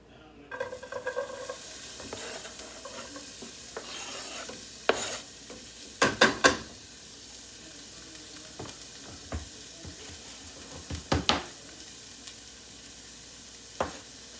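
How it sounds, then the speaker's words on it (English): Onion frying in a pan crackles under a steady low sizzle, broken by several sharp scraping clicks from a utensil stirring against the pan, with no talking. "Get the onion in there."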